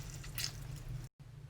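Juice is squeezed by hand over a fresh fruit salad: a short, soft wet squish and faint trickle lasting about a second, close and quiet, then a brief cut.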